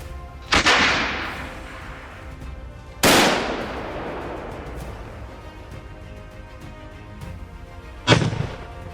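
Three loud rifle shots at a hunters' shooting test in Spain, fired at 100 feet. Each sharp crack rings out with a long echoing decay, spaced several seconds apart.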